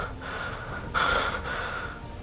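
Heavy, rasping breaths from a character in the video game Love and Deepspace, with a sharp gasping inhale partway through over a steady game background.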